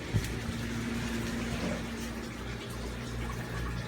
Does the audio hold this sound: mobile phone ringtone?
no